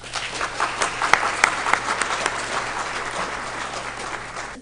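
Audience applause welcomes Dr. Pervin Hassan to the stage at an architecture talk, a steady burst of many hands clapping in a hall with a few sharper claps standing out, sustained evenly throughout.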